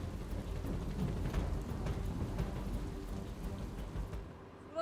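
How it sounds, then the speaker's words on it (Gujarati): A heavy, continuous downpour hisses steadily during monsoon flooding in Surat, India, on the second straight day of rain. The even roar of rain stays close and unbroken, with no voices. "અહીંયા સતત બીજા દિવસે પણ ધોધમાર વરસાદ વરસી રહ્યો છે"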